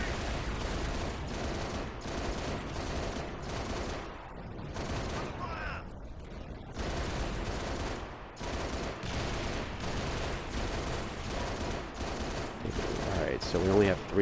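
Rapid mounted-gun fire from a Pelican dropship in Halo: Reach, loud, dense bursts hammering almost continuously with a short lull midway, layered over busy battle noise.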